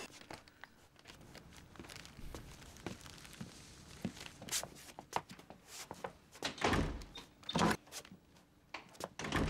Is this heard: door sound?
yes